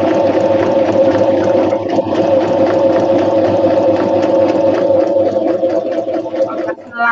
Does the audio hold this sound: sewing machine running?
yes